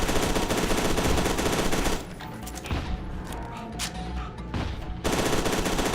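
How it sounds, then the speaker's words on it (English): Rapid automatic gunfire in the shooter game F.E.A.R. 2, loud sustained bursts at the start and end with a quieter stretch of scattered shots and rumble between. "We're just pumping bullets into this guy."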